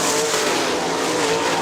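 Sprint cars race side by side into a turn at Kokomo Speedway, a dirt oval, with a loud, continuous engine roar that stays dense and unbroken, with no voices present.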